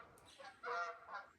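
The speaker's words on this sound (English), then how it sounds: "there's some geese flying over" Geese honk as they fly over outdoors, a few faint, distant nasal calls overlapping in a short cluster, heard alone without speech.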